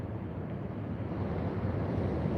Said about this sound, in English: Those waves at the bottom of the rocks